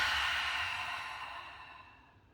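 A long, deep exhale flows out at the end of a guided breathing exercise in a beginner yoga balance class, a soft breathy rush that starts strong and slowly fades to quiet over a couple of seconds, with no talking.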